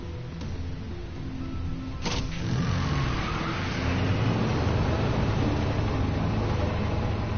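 A car engine hums and revs steadily in The Walking Dead: A New Frontier video game as a vehicle heads toward a zombie herd, a continuous low drone that swells slightly after a sharp knock.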